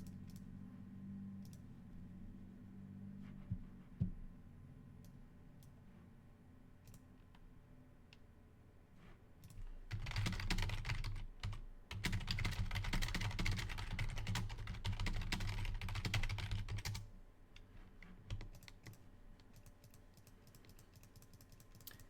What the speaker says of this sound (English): if they make us click through it, we are going to have to click a lot here